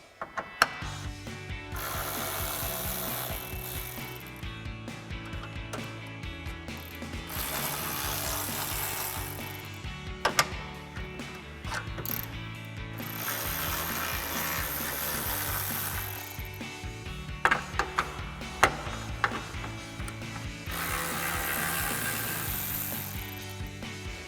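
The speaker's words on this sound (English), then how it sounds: "So we'll grab a 10mm socket to pop these out." A hand ratchet with a 10mm socket turns out the upper grille bolts on a 2010–2018 RAM 2500 pickup, making a run of rapid metallic clicking and gear-like rattling with a few sharper knocks, fairly close and without speech.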